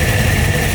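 A modified 1979 car engine idles on reduced fuel, giving a steady, loud, close low rumble with an even vibrating hum and no voices.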